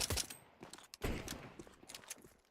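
Gunshots in a Counter-Strike match: a faint flurry of rapid shots with sharper cracks near the start and around the middle, followed by scattered quieter pops, with no talk over them.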